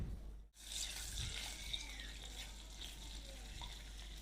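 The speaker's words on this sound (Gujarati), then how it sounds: "હવે વાટેલા આદુ મરચાં ઉમેરીએ અને આદુ મરચાંને ધીમા ગેસ ઉપર 1 મિનિટ" Crushed ginger and green chilies sauté in hot oil over a low gas flame for a samosa filling, giving a soft, steady sizzle that stays quiet and continuous apart from one brief dip near the start.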